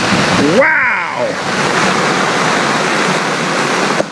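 Fast floodwater rushes loudly and continuously through a street under heavy Hurricane Harvey rain, a dense roar filling the whole stretch, with a brief voice-like whistle near the start.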